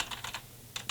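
Quick bursts of key presses on a LESHP water-cooled mechanical LED gaming keyboard, a cluster of clacks followed by a short pause and two more, crisp and close with no talking.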